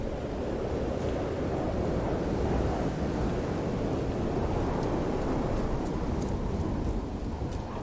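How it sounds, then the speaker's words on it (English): Steady roaring storm in No Man's Sky, a dense wall of wind and rain-like wash with low rumbling that could be thunder, loud and continuous throughout without any talking. "Could be the fact it's a storm as well."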